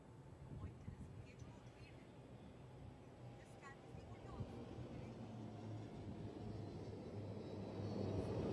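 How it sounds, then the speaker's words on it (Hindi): A Dornier aircraft built by Hindustan Aeronautics Limited flies over during the commissioning of the carrier INS Vikrant, a low, steady engine rumble that grows slowly louder as it approaches. "अब आ रहे हैं हिंदुस्तान एरोनॉटिक्स लिमिटेड द्वारा निर्मित डॉर्नियर विमान"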